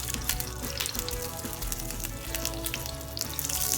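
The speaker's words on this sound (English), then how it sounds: "Now let us flip it when it is already golden brown." A crab omelette of egg, black pepper and salt sizzles and fries steadily in a pan after being flipped, with a constant crackling hiss and small pops, close and fairly loud, with no talking.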